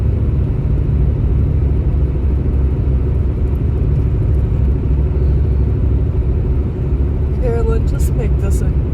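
Steady, loud road rumble and engine drone from inside a moving car, continuous throughout with no breaks, and a faint brief squeak near the end.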